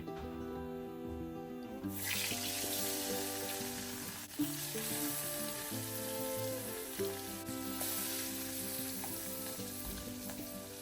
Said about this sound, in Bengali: টাকি মাছটাকে এখন তেলে ভেজে নিব আর টাকি মাছ কিন্তু গরম গরম অবস্থায় ভাজ মানে কাটা ভাজতে হয়